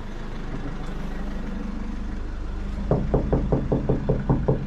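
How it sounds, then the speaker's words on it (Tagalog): Knocking on a house window, a quick run of about ten sharp raps near the end, over a steady low rumble of traffic or an idling engine in a city setting. "Kumatok sa bintana"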